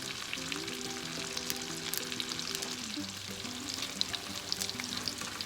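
Salmon fillet frying with lemon and butter in a pan, a steady close sizzle with crackling spits and pops, plus some faint tonal hum beneath, no talking.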